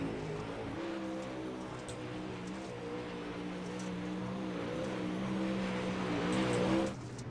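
A super late model race car, number 98, qualifies alone on the dirt track at Charlotte, its engine droning steadily and swelling louder as it nears, then dropping off sharply as it passes.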